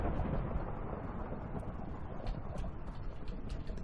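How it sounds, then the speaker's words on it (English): Thunder rumbles outside as a broad, continuous low roar throughout, steady and fairly loud with no voices over it. "It is thundering and like crazy out here."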